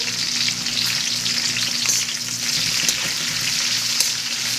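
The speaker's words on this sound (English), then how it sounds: "so we have our peppers and our onion going" Peppers and onion fry in a pan with a constant hissing sizzle and light crackling, close and even throughout, with no voices.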